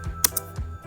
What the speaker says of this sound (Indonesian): Ketika sudah mengetik nama filenya atau file name-nya